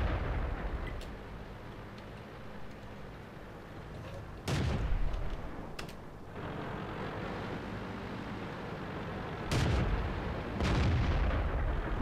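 Tank cannons fire in the online game World of Tanks, with several sharp booming blasts rising out of a low rumbling battle background, the loudest shots spaced a few seconds apart and heard at moderate volume.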